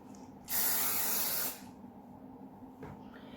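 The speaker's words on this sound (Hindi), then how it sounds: "फिर स्प्रे करें ताकि आपकी आँखों पे न गिरे।" Heat protector is sprayed onto fringed hair before blow drying at home, one close, steady hiss lasting about a second against a quiet room, followed by faint movement.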